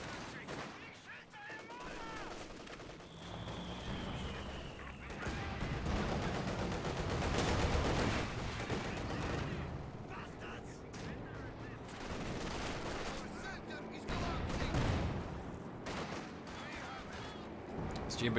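Gunfire fills a real-time strategy match: repeated shots, bursts and heavier booms roll on steadily for about eighteen seconds under a commentator's continuous talk.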